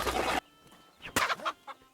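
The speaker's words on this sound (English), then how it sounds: "Let's kick this chicken first" A chicken in Kingdom Come Deliverance 2 lets out a few close, sharp clucks after a loud burst of noise, in short uneven bursts with gaps between them.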